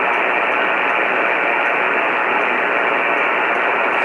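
Steady, loud shortwave radio static hissing from a Grundig Satellit 800 receiver tuned near 88,000, a dense, unbroken wash of noise with no voices.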